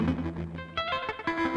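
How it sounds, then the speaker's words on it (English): Tape echo on a BOSS RC-505 loop station repeats looped tones in decaying, slightly distorted echoes, loud and layered, with no voices. "So now, if I demonstrate this tape echo,"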